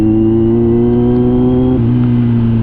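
Idling engine of a 2022 Kawasaki Z900 motorcycle, a steady close rumble with a slight drop in pitch partway through, heard alone with no talk.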